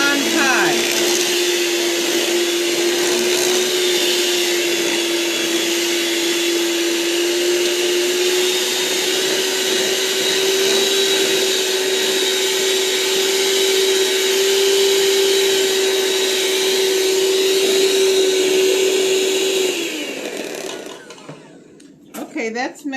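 Electric mixer whirring steadily as it blends pumpkin butter and cream cheese for a pumpkin dessert, a loud continuous motor hum held for about twenty seconds before it winds down and stops.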